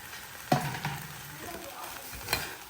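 Leftover rice being stir-fried with vegetables into Indo-Chinese fried rice, a steady sizzle with a couple of sharp scraping stirs of the spatula in the pan.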